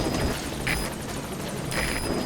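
Pequod, the support helicopter in Metal Gear Solid 5: The Phantom Pain, arriving at a marker, its rotor roaring steadily in a dense, continuous wash with rhythmic chopping, loud and close throughout.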